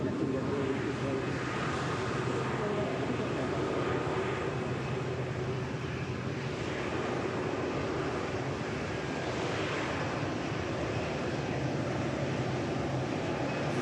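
An Airbus A380 taxiing at Manchester Airport, heard as a steady, continuous broadband engine roar with a low rumble underneath, holding constant and fairly loud throughout with no clear breaks.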